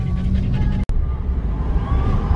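Jasper the dog pants quickly and steadily up close, stressed from car travel, with soft whimpering tones over a low vehicle rumble.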